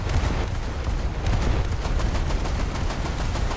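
Naval guns from the USS Cyclone in a warship video game fire in a loud, rapid, continuous barrage of booming shots close up, with no speech.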